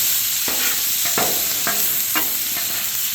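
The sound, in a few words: ribeye steak bites sizzling in a pan with garlic and herbs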